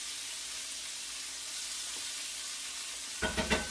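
Meat browning in a pan for Bolognese sauce gives a steady, quiet sizzle, then a few sharp scraping stirs and clatters close by near the end, with no talk.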